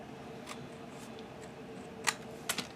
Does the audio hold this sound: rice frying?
no